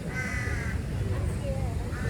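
Crows cawing in a park in Thailand, a few harsh calls over steady outdoor background noise, with a voice talking faintly underneath.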